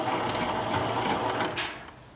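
Electric winch whirring steadily while hoisting a trailer on a Suzuki, a close mechanical hum with fast rattling ticks that fades as it stops near the end.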